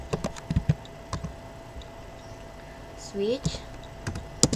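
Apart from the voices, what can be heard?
typing on a computer keyboard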